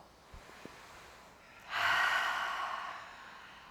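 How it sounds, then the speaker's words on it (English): A single deep breath, a quiet inhale followed by a long, audible, breathy exhale that swells and slowly fades, close to the microphone in a calm setting. "Take a big breath in, let it go."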